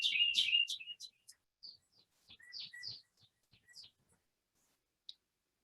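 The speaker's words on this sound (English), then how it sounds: "I think there's just a very happy bird outside of Al's window." Small bird chirping outside a window, a quick run of bright tweets at first, then scattered faint chirps and clicks with gaps between them.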